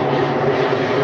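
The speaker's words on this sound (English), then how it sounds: "as another jet comes in" Jet aircraft flying in near Chalkley's Wood on a countryside walk around Kimpton, a steady broadband engine roar filling the whole clip at a constant loudness, with no talk.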